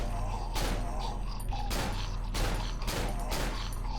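Rifle shots in the horror game Cry of Fear fire at irregular intervals, each a loud broadband crack, over a steady low drone and a dense game background.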